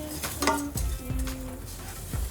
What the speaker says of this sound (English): I'm going to toast this vermicelli in here until it's a nice brown color